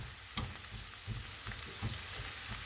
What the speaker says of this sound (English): So I have my hamburger over here. I've already started it, and it's browning really nicely.